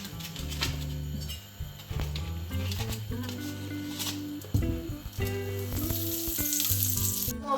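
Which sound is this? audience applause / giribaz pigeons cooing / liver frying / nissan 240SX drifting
liver frying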